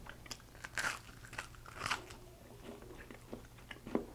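Someone bites into crunchy toasted keto bread with seeds, giving a few sharp close crunches followed by quieter chewing and a final crackly bite, with no talking.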